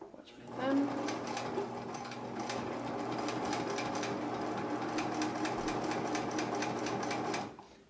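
A sewing machine stitching moccasin liner fabric runs in a fast, steady rhythmic chatter for several seconds, fairly close, with a voice talking over it.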